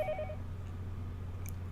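A telephone rings in the visual novel Higurashi: Watanagashi, a brief electronic tone burst at the start that cuts off, followed by a quiet low hum with a faint blip, no voices.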